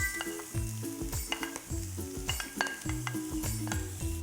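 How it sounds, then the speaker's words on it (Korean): Green onion, onion and paprika stir-fry in a hot pan with a steady loud sizzle, broken by repeated rhythmic scrapes and clinks of a utensil against the pan as the vegetables are tossed. "대파는요, 지금 충분히 볶아졌고요. 여기에 양파랑 파프리카 넣을게요."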